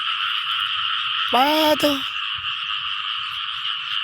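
Frogs croak in a steady chorus beside a flooded, brimming rice field, while a voice speaks briefly over the calls midway through.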